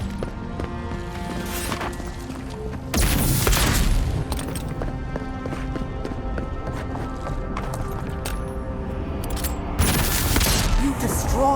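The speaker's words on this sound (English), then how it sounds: "I guess I should break the machine" A machine being smashed in the fantasy game Avowed gives repeated heavy crashing bursts and booming impacts over a busy rattling background, with a couple of loud hits standing out.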